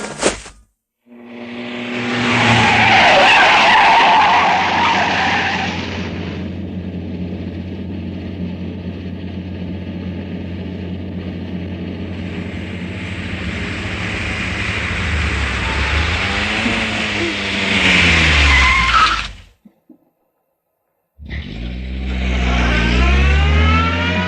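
A car engine runs loud and steady on a night road, its pitch rising and falling with revving as it drives up, ending in a sweeping tire skid before a brief silence and renewed engine noise.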